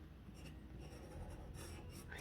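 A pink pen writing on paper, a faint continuous scratching and rubbing at close range, steady and quiet throughout, with no one talking.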